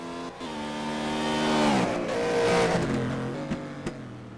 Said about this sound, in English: Out of the final corner comes the speedy BMW